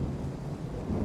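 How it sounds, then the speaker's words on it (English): Low rolling thunder rumbles steadily through a storm in the train simulator Train Sim World 5, with a faint wash of rain, continuous and fairly loud, and nobody speaks. "Thunder and lightning is really starting to grate on me now."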